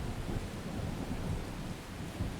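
Heavy rain pours in a dense, constant roar with deep rumbling underneath, steady and enveloping throughout with no voices.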